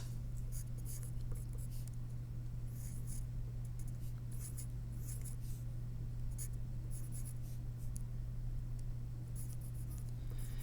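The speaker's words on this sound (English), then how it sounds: "I'm going to write some extra digits down" Handwritten notes, numbers jotted by hand on paper: brisk, scratchy pen strokes in short repeated bursts over a constant low electrical hum, close and fairly quiet.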